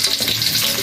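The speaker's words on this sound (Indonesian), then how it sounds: "saya goreng sendiri ya bawang merahnya di minyak yang panas" Shallots fry in hot oil for a chicken feet soup, giving a loud, steady sizzle and crackle with no pause or talking.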